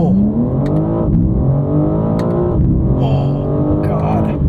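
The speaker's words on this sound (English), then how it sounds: "We'll do a little bit of a launch here." A 2022 BMW M4 Competition xDrive launches hard off the line, its engine note climbing steeply through rising revs with quick shift breaks, loud and close inside the cabin while people exclaim over it.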